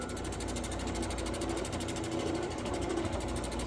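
Steady, rapid grinding buzz as the edge of a Georgia jasper corner tang is ground during knapping, a continuous rasping drone held at an even level throughout.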